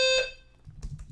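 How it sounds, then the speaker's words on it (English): A building fire alarm sounds a loud, steady electronic tone for its first fifth of a second, then cuts off, leaving quiet low rumble and some noisy shuffling. "The alarm was still going the entire time."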